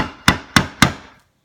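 Three sharp, evenly spaced knocks ring out close and loud as two screwdrivers are struck together to punch holes in a lid, followed by silence.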